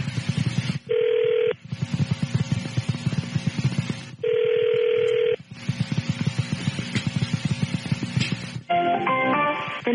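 Telephone dialing tones, loud and close: two steady tone bursts broken by stretches of line noise, then a rapid run of keypad beeps at the end, with no voices.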